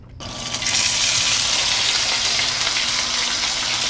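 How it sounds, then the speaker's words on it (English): Fish frying in hot oil, a loud steady sizzle that starts abruptly and keeps up an even, close hiss throughout, with no talking. "Fry fish."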